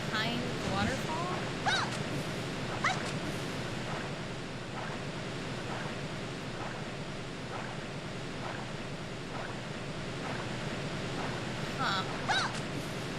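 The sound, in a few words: waterfall in Mystical Ninja Starring Goemon video game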